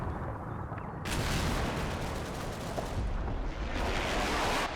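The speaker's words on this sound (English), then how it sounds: "Some spotting rounds going in, I think." Artillery spotting rounds landing in Combat Mission: Battle for Normandy, a dense continuous rumble of distant blasts and crackling impacts that swells loudly after the first second and stays heavy throughout, with no talk.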